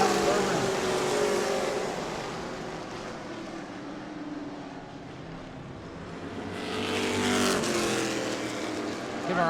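Pro Late Model stock cars race around the New Smyrna oval in a steady, loud engine roar that swells as the pack passes nearby, with a commentator's voice talking over it.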